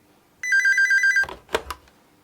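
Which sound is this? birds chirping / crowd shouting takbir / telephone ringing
telephone ringing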